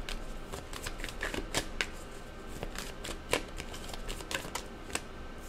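Tarot cards being shuffled by hand, a steady run of soft riffling flicks and sharper card snaps close by, with no talking.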